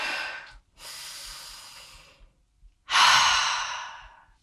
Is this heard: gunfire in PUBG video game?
no